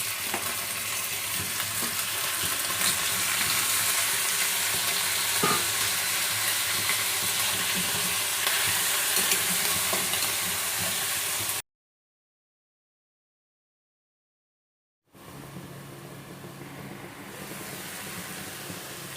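Native chicken sautéing in a pan for tinola hisses with a loud, continuous sizzle, broken by a few seconds of complete silence before the frying resumes more softly.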